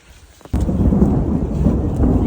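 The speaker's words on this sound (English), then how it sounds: "we got some thunder" Thunder rolls in suddenly as a loud, sustained, deep rumble that fills the air on a foggy day along the Appalachian Trail, heard close and alone after a quiet moment.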